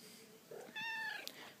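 A cat gives a single short, close meow, with faint household background and no talking.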